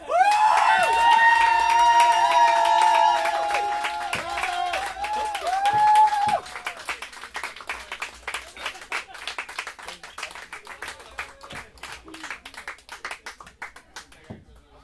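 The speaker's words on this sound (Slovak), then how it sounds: "vy mi za to tleskate" Concert audience applauding and cheering for a live music performance, a loud dense burst of clapping mixed with a sustained musical tone for about six seconds, then the clapping thins and continues more softly.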